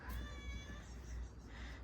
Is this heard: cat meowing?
yes